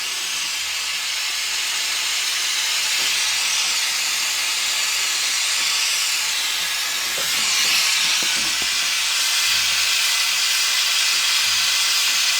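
Gas torch hissing steadily and loudly while heating a brass tap, a constant broadband rush with no talk over it.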